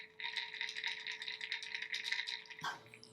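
Guerlain Meteorites powder pearls rattle inside their container in a steady, close, soft clatter of many small beads for over two seconds, ending with a brief knock.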